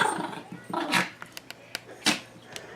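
Two dogs play together, a small male named Momo and a bigger, feisty female: scuffling growls mixed with sharp short barks and yips, close by and irregular.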